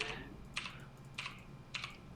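Computer keyboard hotkeys tapped during a StarCraft match: four quiet, evenly spaced clicks roughly half a second apart, each a short crisp clatter over a faint steady background hum.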